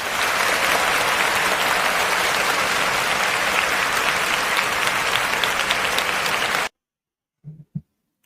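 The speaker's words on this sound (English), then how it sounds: "Let's give him a round of applause" Loud, dense audience applause at a talk about mortgage capital and credit, sustained for about six and a half seconds before cutting off abruptly, followed by a few faint stray sounds in near silence.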